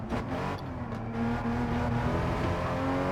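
A Porsche Cayman GT4 driving with its engine droning steadily and pitch rising gradually as it accelerates, a close, continuous roar with no talk.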